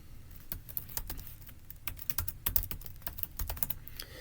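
Fingers type a password on a computer keyboard in a quick, uneven run of sharp, close key clicks, fairly quiet, with no talking.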